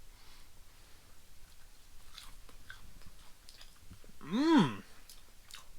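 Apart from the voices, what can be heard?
chewing a piece of breaded rainbow trout with hot sauce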